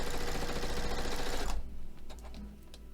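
Sewing machine stitching a quilt block runs in a fast, even mechanical whir and chatter, loud and close, then stops abruptly, leaving a few soft clicks and handling taps.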